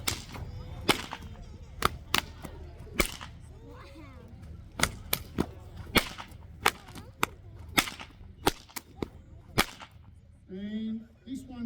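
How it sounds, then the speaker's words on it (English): Sharp stockwhip cracks ring out one after another at an outback stockman show at the Pinnaroo Show, performing the Sydney flash trick. The loud reports come in an irregular series across the span, with a voice briefly heard near the end. "This one's called your Sydney flash."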